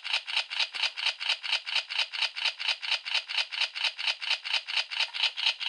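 A spinning part on the DX A.I.M.S. Narikiri toy gives a fast, even rattling whir, a regular ticking pulse repeating about four times a second, crisp and close, with no voices.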